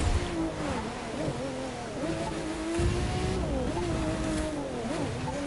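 A racing-game car in The Crew 2 speeds along a highway, its engine droning steadily with pitch rising and dipping through gear changes, loud and continuous from start to finish.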